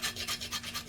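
Hand sharpening of a chopper machine blade: quick rhythmic rasping strokes, about four in a second, close up with a low steady hum beneath.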